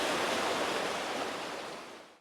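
Fast-moving mountain stream in Lauterbrunnen, Switzerland, a loud, close, continuous rush of water that cuts off abruptly at the end, with no voices.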